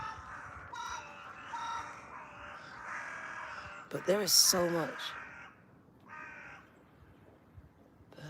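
Crows caw overhead outdoors among trees, a short burst of loud harsh calls in the middle, with people talking before and after.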